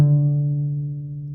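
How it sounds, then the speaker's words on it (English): A single plucked note on the open D string of a cello rings out close and clear, with a low warm tone that slowly decays over about a second and a half. "Pluck the open D string."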